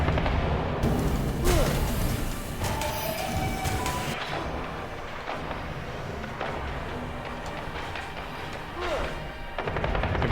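Bow shots firing in the game Curse of the Dead Gods, a run of sharp, loud releases under a dense, rumbling backdrop of combat effects, repeating irregularly across the clip.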